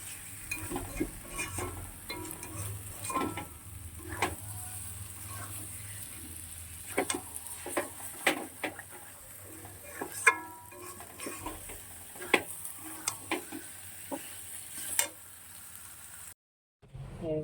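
A roti fries in a pan during vegetarian home cooking, giving a soft, steady sizzle broken by scattered ticks and scraping taps from stirring or turning, continuing close and moderately quiet for about seventeen seconds.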